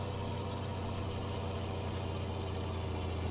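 Steady, low rumbling idle of a tractor engine in a farming video game, a constant close drone with no change in pitch or level and no talking.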